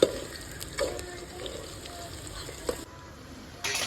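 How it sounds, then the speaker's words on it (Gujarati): Onions frying in oil in a home kitchen pan, a steady soft sizzle with occasional stirring clinks and brief louder spatters. "પહેલાં તો હે ને મેં ડુંગળી નાખી દીધી છે અને તેલ નાખ્યું"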